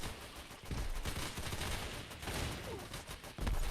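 Dense battlefield barrage in the video game Entrenched, with artillery shells and massed gunfire crackling nonstop, heavy low booms swelling near the start and again at the end.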